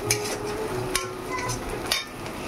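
Ginger being mashed with a utensil in a kitchen gives soft scraping and stirring, broken by a few sharp taps against the vessel over a low sizzling background.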